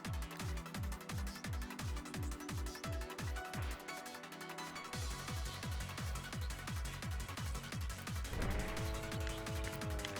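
Car driving in the video game Spark the Electric Jester 3, with a rapid run of revving engine pulses, a brief dip, then steady driving and a rising whine near the end, loud and continuous with no talk.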